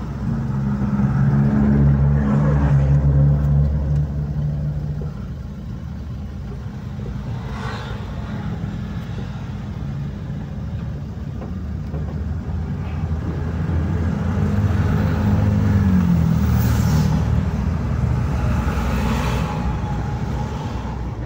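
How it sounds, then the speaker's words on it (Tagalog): A vehicle engine rumbling behind the listener, loud low droning that swells at the start, eases, then builds again as it moves past, with some faint background noise. "Baka may sasakyan sa likod"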